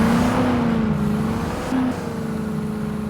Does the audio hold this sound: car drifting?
yes